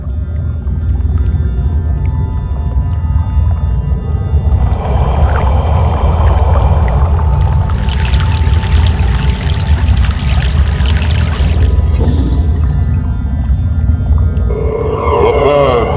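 In Broken Sword: The Sleeping Dragon, a boat makes its way across a river: a constant heavy rumble underneath, with surging, hissing water washing over it through the middle and a short splashy swirl toward the end.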